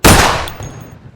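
A cannon fires once in a Roblox zombie survival game: one loud close blast that decays into a short rumbling tail.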